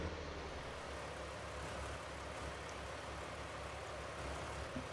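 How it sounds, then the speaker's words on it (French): Tractor engine in Farming Simulator 19 lugging a heavy trailer load, a steady low diesel drone with a faint throb, quiet and continuous without talk. "j'espère que le tracteur va pas peiner à le tirer"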